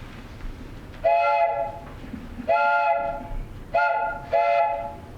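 A train whistle sounding in four sustained chord-like blasts spaced a second or so apart, loud over a rumbling rail background, as a departing train pulls out in a sound-effect recording.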